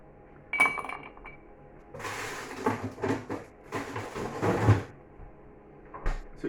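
Ice cubes clink and rattle against a glass at home while homemade old-fashioned fizzy soda is served, a few sharp taps followed by quieter clattering and shifting, close and fairly soft.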